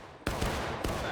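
Musket fire in the War of Rights Civil War game: three sharp, close gunshot cracks in quick succession, each followed by a rumbling tail as a distant volley continues beneath.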